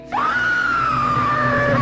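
A monstrous bride in the video game Endacopia, a mass of limbs and wires, lets out one loud, sustained scream that rises sharply and then holds a piercing, slightly wavering pitch close up.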